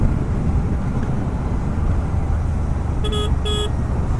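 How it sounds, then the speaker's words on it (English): Two short, thin beeps from the horn of a Royal Enfield Shotgun 650 motorcycle sound in quick succession near the end, over a loud constant roar of wind and road noise while riding. "Very weak horn for a monster like this one."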